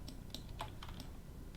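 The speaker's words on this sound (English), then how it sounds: "And I'm just hitting G on the keyboard" Computer keyboard keys click softly and sparsely during 3D car modeling work, a few quiet, separate taps over a low background hum.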